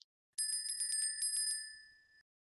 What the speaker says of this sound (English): Now that's the bell.